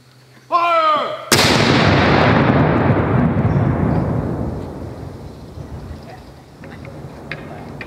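A Civil War cannon loaded with eight ounces of powder fires once with a loud, sharp boom at a garrison reenactment, its deep rumble rolling away slowly over several seconds; a brief voice is heard just before the blast.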